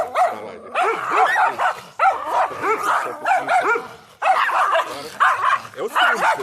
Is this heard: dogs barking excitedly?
yes